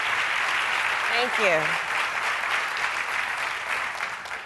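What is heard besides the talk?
audience applause welcoming a speaker to the stage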